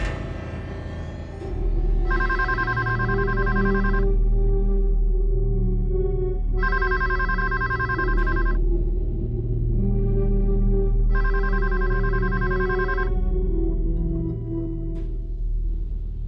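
A telephone rings unanswered, three long electronic ring bursts spaced evenly apart, loud and close over a steady low background tone with no one speaking.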